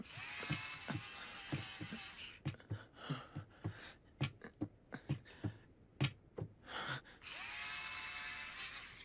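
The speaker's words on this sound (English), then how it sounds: "She's brushing her teeth" Electric toothbrush buzzing in an anime scene, a steady high whir for about two seconds, then short rhythmic strokes and clicks, and the continuous buzz returning near the end.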